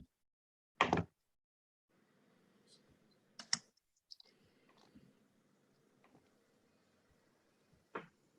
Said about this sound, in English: Let me try typing it in instead of clicking it.